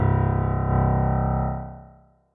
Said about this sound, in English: The lowest C note on a piano is called C1.